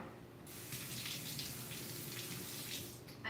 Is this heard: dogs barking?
no